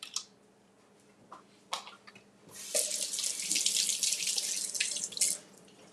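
Tap water running into a sink while water chestnuts are rinsed, a few light clinks first, then a steady close gushing stream.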